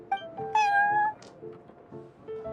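A cat in Genshin Impact meows a few times in quick succession, a close, bright, drawn-out mew followed by shorter softer chirps over quiet background.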